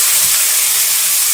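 Finely chopped onion hits hot oil with curry leaves in a pan for tomato rice, giving a steady, loud, close sizzling hiss throughout.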